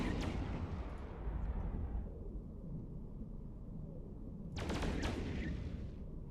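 Ship weapons firing in the space game EVE Online: heavy, booming volleys over a constant low rumble, one burst at the start and another, louder one near the end, with no voices over them.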